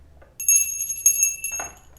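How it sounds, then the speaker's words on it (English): A bell rings with a bright, sustained metallic tone, struck about three times in quick succession so the shimmering rings overlap and linger, close and fairly loud, with no talking. "I'm going to ring the bell to cleanse the energy for me and for you."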